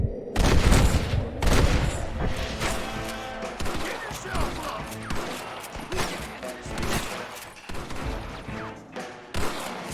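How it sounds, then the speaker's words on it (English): Rifle shots ring out in a Western shootout in Red Dead Redemption, loud sharp cracks and booms fired in rapid irregular bursts, some overlapping, over a busy background of game noise. "I love using this rifle in Deadeye."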